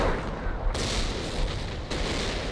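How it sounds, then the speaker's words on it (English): Mortar barrage in Company of Heroes, a World War II strategy game: a steady rumbling bed of battle noise with two sharp blasts, one near the start and one just before the end, no voices. "Looks like it's a mortar barrage."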